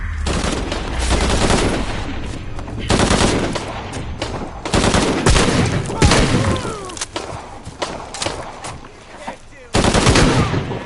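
Dense bursts of automatic gunfire and rattling shots from a PS4 shooter game, loud and near, with heavy thuds and a brief lull before another burst.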